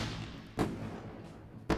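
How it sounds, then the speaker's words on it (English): A fireworks sound effect plays during a live trading stream: two separate booming bursts about a second apart, each a sharp thump over faint background hiss. "Fireworks. Keep it running. Keep it running. And the final explosion. Boom."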